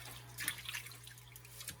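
Tap water runs and splashes into a sink as cucumbers are washed for pickling, a soft, steady trickle with small drips over a low hum.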